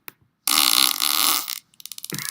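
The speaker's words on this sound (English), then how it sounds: "It's another fart." A fart sound effect played back from a sound file: a blaring, buzzy blast of about a second, then a brief gap and a shorter sputtering burst of flutters at the end.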